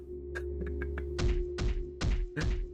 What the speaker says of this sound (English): Hiromu started to bang his head against the cell again